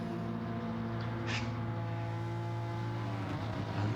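Race cars lapping Road Atlanta in Gran Turismo 7, a steady droning engine tone with layered harmonics holding nearly constant throughout, one brief higher whoosh passing midway, no talk.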